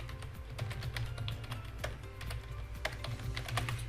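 Rapid typing on a computer keyboard, a quick irregular run of close, crisp key taps over a low background hum.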